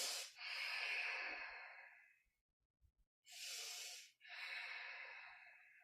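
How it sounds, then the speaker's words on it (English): Slow, audible breaths through the nose or mouth while a yoga pose is held: a long exhale, a pause, then two more airy breaths, close and fairly loud, with no talk. "holding the shape and breathing"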